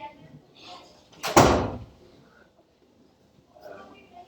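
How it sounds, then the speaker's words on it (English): A door is shut during a lecture, making one loud thud around the middle of the clip. Faint room noise and bits of distant talk come before and after it. "let me just close this door"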